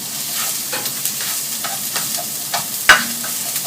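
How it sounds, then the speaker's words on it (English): Celery and onion cooking in a pan over medium heat for vegan risotto, a steady soft sizzle with occasional stirring scrapes and one sharp clink near the end. "Just let the celery and the onion cook a little bit."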